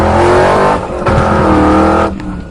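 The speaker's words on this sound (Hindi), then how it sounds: "बाबा गाड़ी को तो जंगली घोड़े की तरह दौड़ा रहे हैं" A car driven hard and fast, its engine roaring loudly and steadily with revving surges close by, and no talk.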